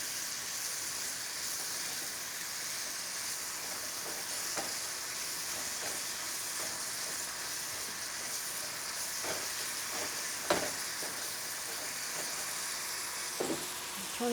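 Apples cook and caramelize in sugar in a pan, a steady close sizzling hiss that runs unbroken, with occasional soft clicks of stirring and no talk.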